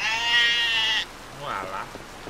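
A sheep in Harvest Moon: Light of Hope gives one loud, wavering bleat lasting about a second, followed by a softer second bleat, with quiet game background beneath.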